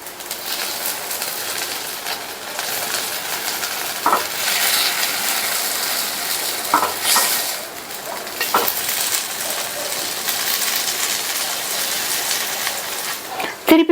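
Paniyaram sizzle in a ghee-greased paniyaram pan after flipping, a continuous soft frying hiss with occasional light clinks of a utensil against the pan.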